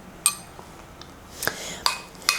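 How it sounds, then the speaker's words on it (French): A spoon clinks and scrapes against a bowl while stirring a microwaved protein cream, a few sharp metallic taps spaced irregularly over soft scraping, close and clear. "Ça fait 30 secondes, je vais un peu mélanger."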